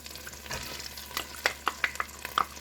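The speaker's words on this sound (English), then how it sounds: "I'm going to let that saute all up together for about 5" Bell peppers, onions, mushrooms and celery sauté in a pan with a soft, steady sizzle, while a series of sharp scraping and stirring clicks sounds over it toward the end.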